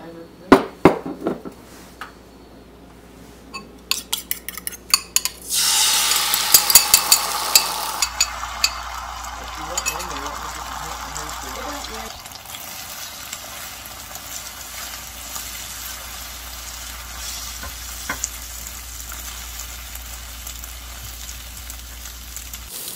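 Eggs are scrambled in a hot frying pan for a copycat breakfast bowl, with a spatula clattering and scraping against the pan over a steady sizzle.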